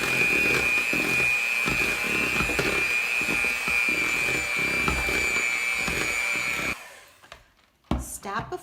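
An electric hand mixer whirs steadily while blending cookie dough ingredients such as cream of tartar, baking soda and salt in a kitchen, running continuously for several seconds before switching off, followed by brief clattering.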